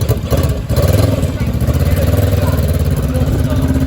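A classic motorcycle engine, one of the Norton rotary, BSA Bantam or Triumph bikes at Kempton Park, runs close by with a steady, pulsing idle thump that stays loud and even throughout after a brief catch at the start.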